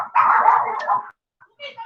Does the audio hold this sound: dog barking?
yes